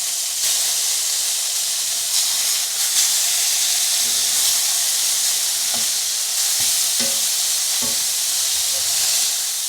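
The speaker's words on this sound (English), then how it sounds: "That is why I prefer to cook my burgers in cast iron." Frozen burger patties fry in a cast iron skillet, a loud, steady sizzle and hiss with bright crackling, plus a few soft clinks and knocks partway through, and no one speaking.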